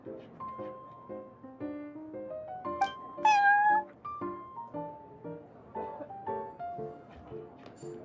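Cat in Genshin Impact meowing repeatedly in short, varied tones, with one louder drawn-out meow midway, close and clear against a quiet background.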